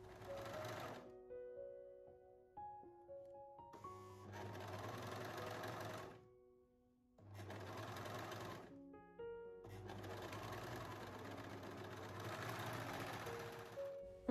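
A domestic sewing machine stitching a swimsuit seam runs in several long bursts of steady whirring, close and fairly loud, with brief quiet pauses between runs and no talk.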